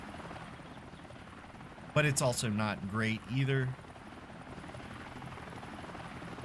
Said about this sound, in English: It's a solid chopper.